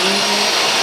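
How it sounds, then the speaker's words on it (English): A steady, loud motor whine from a vacuum cleaner running on a home floor, continuous and unbroken for under a second. "let's just vacuum the floor"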